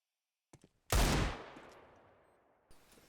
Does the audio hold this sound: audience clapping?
no